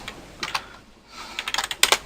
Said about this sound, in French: vous pouvez taper directement au clavier